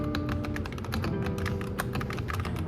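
Typing on a modded RK84 mechanical keyboard with Akko Ocean Blue switches, knockoff keycaps and tape on the back: quick, continuous, crisp clicky keystrokes, close and fairly loud, with a faint steady hum behind them.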